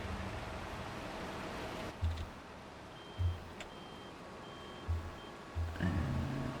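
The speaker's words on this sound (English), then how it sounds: "up you go, lorry. You can back up the hill a bit" A lorry backs up a hill in Farming Simulator 22, its reversing alarm beeping at spaced intervals over a steady engine and outdoor noise, four low pulses in all.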